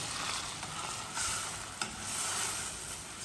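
Shrimp and bitter melon sizzle and fry steadily in a pan, a continuous close hiss with a brief stir clatter partway through.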